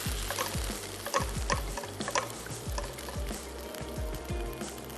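A pan of boiling water for a creamy sauce bubbles and sizzles loudly and steadily, with repeated clinks and taps of a utensil stirring through it and no voices.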